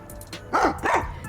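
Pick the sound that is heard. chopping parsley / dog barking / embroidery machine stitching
dog barking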